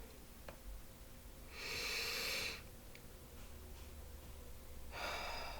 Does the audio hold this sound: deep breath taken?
yes